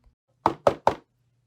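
Three evenly spaced knocks on a door, close and crisp, in a quick steady rhythm with silence around them.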